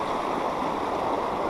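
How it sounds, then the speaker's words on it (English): A river flowing at a trail crossing, a continuous even rush of water heard close by and alone. "this is the river crossing right here"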